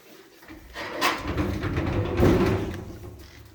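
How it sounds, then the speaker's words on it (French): Folding accordion doors on a large kitchen cupboard opening, with soft rattling slides and clatter swelling around one and two seconds, moderately near and fairly quiet, no talk. "donc des portes en accordéon"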